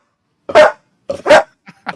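A pet dog barks near the listener in a home, two loud barks about a second apart followed by softer yips, alone with no talk over them.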